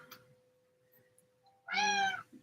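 Nefertiti, a pet cat, gives one clear, drawn-out meow close by in a quiet room, preceded by faint small rustles and a low steady tone.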